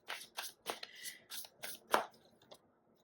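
Tarot cards being shuffled and drawn by hand, a run of crisp riffling and snapping bursts in an uneven rhythm, close and fairly quiet with no talking.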